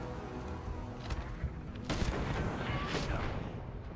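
Heavy sniper rifle shots boom in the video game Starfield, a couple of loud, distant-sounding reports with a rolling tail over low background hum.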